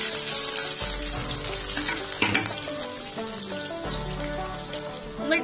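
Chopped onion, garlic and chili fry in hot oil with urad dal for a Tamil egg curry. The sizzle is steady and close, with occasional stirring clatter and no voices.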